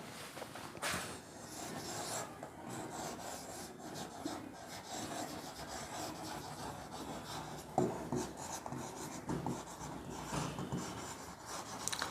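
A marker squeaks and rubs across a whiteboard during a physics lesson, irregular scratchy strokes and taps continuing throughout, close and fairly quiet with no talk.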